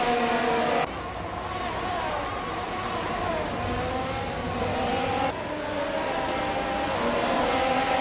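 Mercedes W13 Formula 1 race cars circling the track, a steady loud engine whine with shifting pitch sweeps as cars pass, continuous throughout with a sharp cut near the start and middle.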